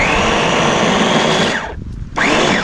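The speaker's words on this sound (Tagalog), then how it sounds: "Ating grinder." Electric food grinder at a rural Filipino home kitchen, grinding ingredients for tinuktok with a loud close whirring motor that cuts out briefly and then spins back up.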